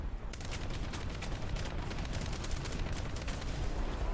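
A vehicle in a video game fires a long, continuous automatic burst: dense rapid shots rattling without pause over a muffled rumble, moderately distant and alone.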